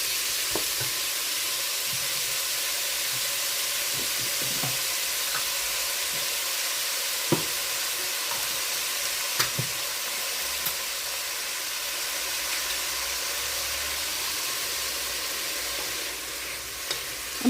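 Onion frying in hot oil in a pot, a constant bright sizzling hiss with occasional small pops and crackles, steady and close throughout.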